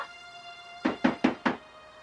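Four firm knocks on a door in a steady, evenly spaced run, close and loud against a quiet room with a faint steady hum.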